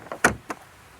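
Rear doors of a 2022 Genesis GV60 electric car opening: a faint latch click followed by a sharper unlatching clunk and a second, softer mechanical thump, close by and quiet, with no talking.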